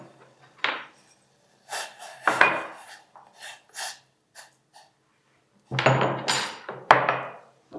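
Black peppercorns are crushed coarsely by hand for an herbal leaf decoction, giving several scattered gritty pounding and scraping bursts, close and fairly loud, with quiet pauses between them.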